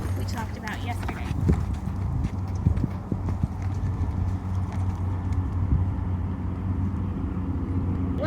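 Horse hooves clip-clop in a steady walking rhythm close by during a stirrup driving groundwork exercise with a colt, with a low engine hum and a faint jangle in the background while a person talks over them.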